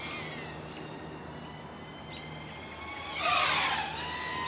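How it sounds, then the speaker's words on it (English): A SkyStars X140 FPV drone's motors whine steadily through a yaw spin, the pitch swelling into a brief louder, higher surge near the end before settling back; outdoors, with no talking. "See how fast those motors are, so that's pretty cool."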